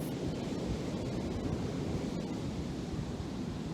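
Ocean surf washes in a continuous, even roar of broadband noise along the shore, steady and fairly close with no distinct breaks between waves and no one talking.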